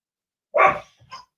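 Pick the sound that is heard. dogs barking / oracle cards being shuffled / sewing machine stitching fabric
dogs barking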